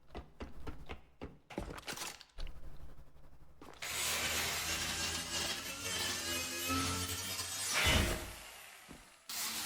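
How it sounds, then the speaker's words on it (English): Objects smashed and broken with a grinder in the video game The Last Caretaker: sharp bangs and clatter at first, then a sustained loud harsh grinding roar with a surge near the end, no talk. "Need to break more things"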